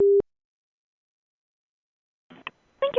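Telephone tone right after a call is hung up: one short steady beep at the very start, then silence, followed by faint speech fragments near the end.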